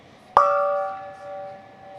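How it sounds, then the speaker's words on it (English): A big gong struck once to celebrate a Dodgers home run at the ballpark, a sharp loud hit that rings on with a long shimmering tone slowly fading over a couple of seconds. "Big gong for that guy."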